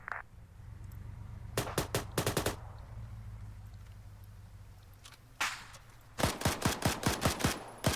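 Arma 3 video game gunfire: sharp bursts of rapid automatic shots, then a lone shot and a longer volley, crisp and fairly close over a low droning background, with no talking.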